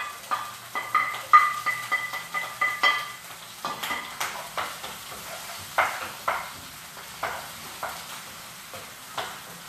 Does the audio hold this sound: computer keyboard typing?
no